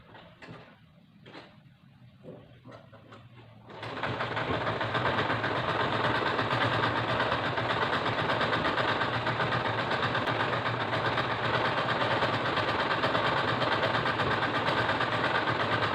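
A sewing machine stitching a fabric face mask starts up after a few soft handling taps and clicks, then runs as a steady, close mechanical whir that holds without pause.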